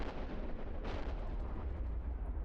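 A smart bomb goes off in the space game EVE Online with a deep, rumbling blast that rolls on as a heavy low boom, and a brighter burst sounds near the middle.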